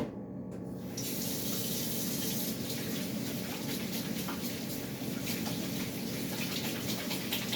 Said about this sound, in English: I'm gonna go wash my hands again